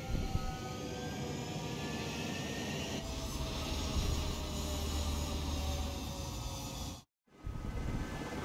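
A fighter jet in Ace Combat 7 roars steadily on takeoff, a loud sustained engine rumble with high whine, briefly dropping out near the end before resuming.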